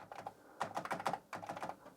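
Typing on an Amiga 500 keyboard, with a quick run of close, quiet key clicks in uneven bursts.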